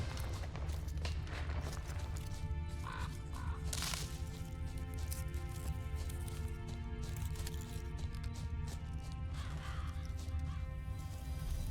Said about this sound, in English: All I gotta do is follow the cawing.